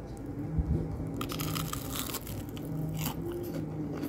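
Close, crisp crunching bites into a double-coated fried snack with a crunchy shell and soft meat filling, several crackly bites in a row with no talking.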